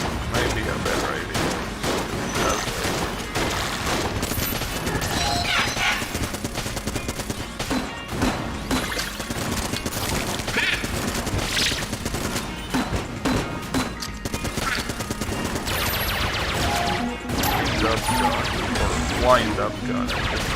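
Rapid gunfire from a wind-up gun in the video game Exit the Gungeon, a loud dense barrage of shots and impacts that runs without a break under game music and effects.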